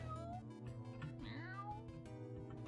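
A cartoonish cat meows in the video game Here Come The Mystery Teens, a couple of bright, bending meows over soft background music.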